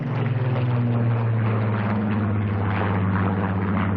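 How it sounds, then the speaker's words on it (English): A Spitfire flies overhead in salute at Filton, Bristol, during the arrival of Concorde, its propeller engine a loud, steady droning roar that holds throughout. "Overhead, a Spitfire flew past in salute."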